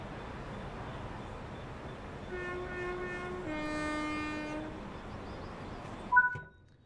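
A train on the East Coast Main Line in Train Sim World 4, steady rolling rumble under a long two-tone horn blast that shifts pitch midway, ending with a sharp clank and brief screech before cutting out.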